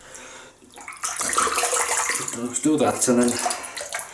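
Tap water running into a sink while a shaving brush is readied for a shave, a loud steady gush close by, with someone talking over it.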